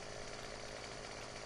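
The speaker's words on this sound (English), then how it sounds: "So I got my chainsaw perfectly horizontal" A chainsaw runs steadily as it cuts into a tree in a hard-mode farming video game, giving a continuous buzzing drone at an even, moderate level.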